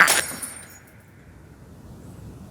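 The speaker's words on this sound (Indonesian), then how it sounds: "Terdengar suara benturan dari asbak yang dia lempar sampai pecah." A thrown ashtray hits and shatters in one loud crash, and the glass tinkles and rattles briefly before a long fading hiss.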